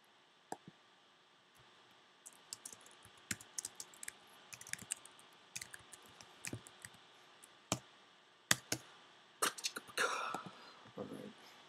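Quiet, irregular clicks of typing on a computer keyboard, short bursts of keystrokes scattered across several seconds with a brief whispered voice near the end.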